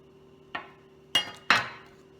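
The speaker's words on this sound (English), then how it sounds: "I'm just going to chop it up in little chunks" A knife cuts mozzarella cheese into small chunks on a board, three separate sharp chops spaced apart against a quiet room hum, the last two louder and closer.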